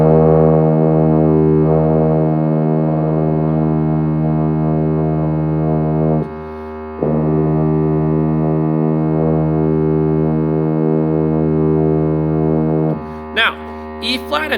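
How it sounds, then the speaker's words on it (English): A tuba sounds a long, steady E flat, held for several breaths with brief pauses between them and rich low harmonics, and a voice briefly speaks near the end. "This is going to be E flat. This is what it sounds like. Let's go ahead and play E flat."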